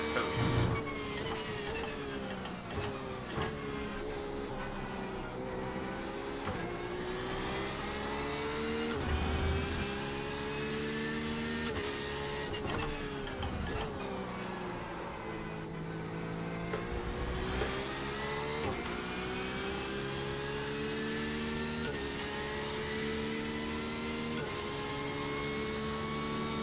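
A Porsche race car engine in iRacing at Daytona drones at steady high revs, with the whine shifting pitch through gear changes and throttle lifts over a long stretch.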